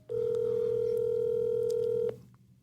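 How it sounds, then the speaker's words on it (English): A single steady telephone tone sounds for about two seconds, clear and close, then cuts off abruptly and leaves a faint room hiss. "I'm going to see if he'll answer the phone."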